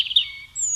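Chipping sparrow song: a few bright, high chirps close by, then a thin sustained high note, brief and clear with no voices.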